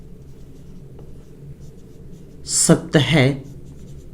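A pen scratches steadily across paper during a Class 10 trigonometry lesson, and the soft continuous writing runs under a short spoken phrase near the end.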